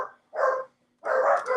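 A dog barks twice at close range, a short bark followed by a longer, louder one after a brief gap, with no talk over it.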